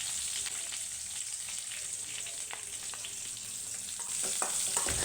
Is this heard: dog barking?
no